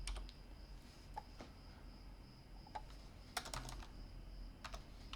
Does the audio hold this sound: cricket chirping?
no